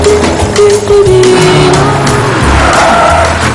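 A car pulls away hard with a loud, close engine roar and a squeal of tires that rises and holds steady as it accelerates, and no one speaks over it.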